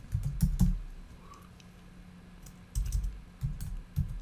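Bursts of computer-keyboard typing while naming a layer in Photoshop: a quick cluster of keystrokes, a pause, then several short clicking runs, close and fairly quiet with no talking.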